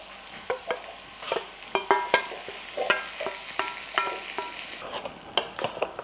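Bitter gourd and onion fry sizzles in a pan over medium to high flame while a spatula scrapes and stirs it in repeated clattering strokes, close and fairly loud with no voices.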